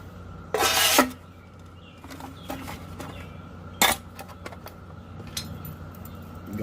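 A Valtcan titanium military canteen mess kit is put back together. Two bright metallic scrapes and clanks stand out, with lighter clinks and taps between them over a low background hum, and nobody speaks.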